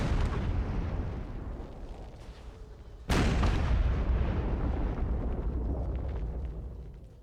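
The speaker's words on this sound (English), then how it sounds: "Shot flying overhead." Artillery shot roars overhead on an Empire: Total War battlefield, a low rumbling boom that swells suddenly midway and then trails off in a long fading rush, with no voices.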